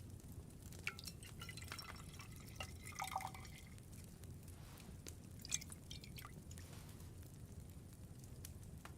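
Liquid drips and trickles faintly while distilling in the medieval game Kingdom Come: Deliverance 2, soft irregular drops and light glassy plinks over a low steady background hum.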